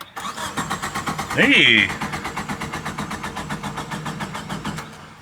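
An abandoned Geo Tracker's engine cranks over with a rhythmic, labored churning that keeps pulsing for several seconds, briefly overlapped by a shouted exclamation partway through.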